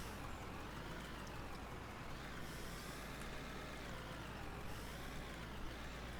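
Heavy mining truck climbing a hill in the game Out of Ore, a steady loud diesel drone with a constant low rumble and faint whine throughout, no talking.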